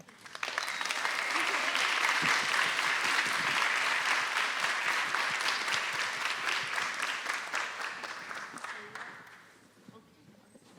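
An audience claps steadily for about nine seconds at a talk, welcoming speakers to the stage; the applause is moderately loud and dense, then thins out and fades.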